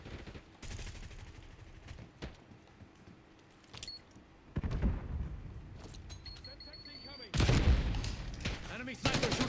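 Gunfire in the video game Call of Duty Black Ops 6, sharp shots and bursts with loud stretches of firing and in-game sounds, heard close amid game audio and voices.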